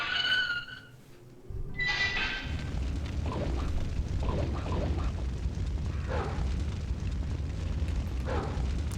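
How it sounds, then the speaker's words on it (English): In Resident Evil 3, a soaked rope catches fire with a sudden whooshing ignition, followed by a steady low roar of flames that persists to the end. "We set it on fire."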